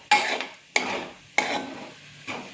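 Potatoes stirred and spread with a utensil in a frying pan for potato fry, giving repeated scraping, rasping strokes, roughly four sweeps at a steady pace, close and moderately loud, with no voices.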